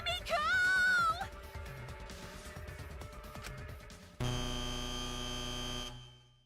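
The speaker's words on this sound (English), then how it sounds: "the buzzer went off" A buzzer sounds in the game Danganronpa V3: Killing Harmony, a loud sustained electronic drone that cuts in abruptly over tense music, holds for nearly two seconds and then stops sharply.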